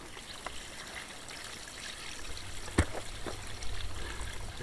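Liquid poured onto a compost heap on an off-grid finca, a soft trickling stream with a brief splash partway through, close and fairly quiet.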